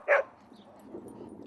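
A dog at the Urbana Dog Park gives a single sharp bark close by, followed by faint ambient outdoor noise and soft distant sounds.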